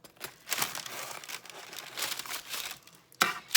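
Knife sawing through a hot Philly sandwich, crinkly crunchy bursts of bread and wrapper at an uneven pace, close and fairly loud.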